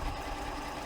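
A Janome sewing machine runs steadily while stitching with a cording foot, a close, even mechanical hum with a fast, fine rhythmic whir and no pauses.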